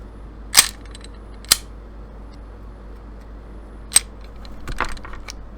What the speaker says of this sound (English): We're going to chamber that one.